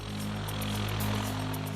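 A helicopter hovering near power lines during live-line electrical work, a steady close engine drone with a rhythmic rotor chop throughout.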